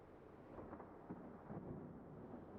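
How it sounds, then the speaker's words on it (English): Distant thunder rumbling from a darkening sky in the fantasy game Dragonfall, a low, continuous roll with a few swelling surges, steady and fairly faint. "The sound of thunder in the distance rapidly approaching"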